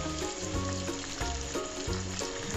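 Tomato puree added to frying chicken tikka in a karahi, a close steady sizzle and crackle with rhythmic scraping and stirring, no voices.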